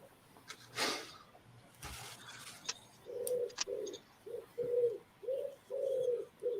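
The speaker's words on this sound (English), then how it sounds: "That's the wood pigeon now" A wood pigeon coos in a steady run of about six soft, hollow notes in the second half, after a few scattered clicks and knocks.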